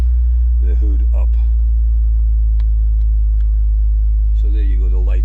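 BMW Z4 engine idling, a loud constant low hum close by, with a person talking over it.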